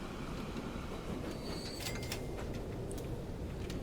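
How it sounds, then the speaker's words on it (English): Train passing in Transport Fever 2, a steady low rumble of rolling wagons with metallic squeals and clanks rising midway, continuous and close throughout, with no talk. "I'll let that train get out of the way"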